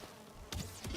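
Bees buzzing in the Valheim video game give a low, continuous hum, with a couple of brighter sharp bursts near the end and no speech.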